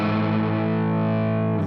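Distorted electric guitar holds a loud, sustained low note played on the 3rd fret of the low E string, with a slight pitch bend near the end, in a rock riff lesson; it rings alone with no talking.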